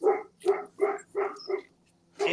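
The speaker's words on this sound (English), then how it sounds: "And with the dog in the mobile studio." A dog in a mobile studio parked in a driveway barks six times in quick succession, loud and close, in a fairly even rhythm with short gaps between barks.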